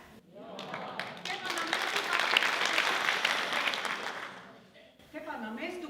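An audience at a 2019 folk dance concert by the Leščeček folklore group in Ljutomer gives sustained applause that swells and fades, and a voice starts speaking as the clapping dies down.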